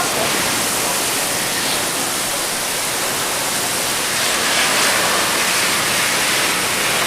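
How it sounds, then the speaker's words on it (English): Wind-driven rain water blows off a house roof during a late-winter storm, a loud, steady broadband rush of spray and gusting wind that holds constant throughout, with no voices heard. "Look at the wind, or the water blow off of the roof"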